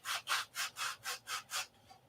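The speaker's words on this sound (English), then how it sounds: "I'm sanding a bevel on it to get it to about where I want it" Six even back-and-forth strokes of sandpaper shaping a bevel on a wooden P-47 flap, a close, steady rhythmic rasp that then stops.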